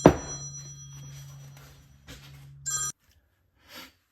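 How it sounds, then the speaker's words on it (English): A phone rings indoors, its bell tone sustained for about three seconds over a low steady hum and faint background noise, then cuts off abruptly, leaving near silence. "My phone will not stop ringing"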